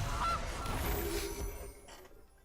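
A goose in the Magic Arena card game lets out a honking call, a nasal squawk followed by softer fading honks, alone with no talking.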